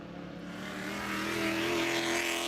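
Porsche GT race cars in the GT1B class roar past at the FARA Miami Grand Prix, one continuous engine note rising in loudness and pitch as a car approaches close by.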